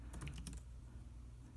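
Quick bursts of keystrokes on an iPad Pro keyboard, a cluster of crisp, light taps close by that stop after about half a second and leave a quiet room hum.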